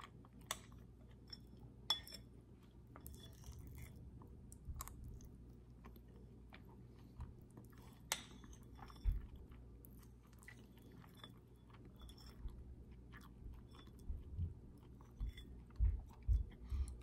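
Close, quiet chewing and biting of oatmeal and snacks, with soft mouth sounds, occasional clinks of glass or cutlery and sharp crunchy ticks over a low background hum.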